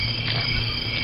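Crickets chirp in a steady, continuous high trill, close and fairly loud, with no voices over them.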